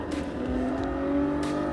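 A race car in Gran Turismo Sport laps Spa-Francorchamps, its engine holding a loud, steady, high whine that creeps upward in pitch as it pulls out of a slow corner, heard alone without talk.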